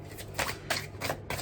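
Tarot cards being shuffled by hand, several quick riffling bursts in an even rhythm, close and clear, with no voice.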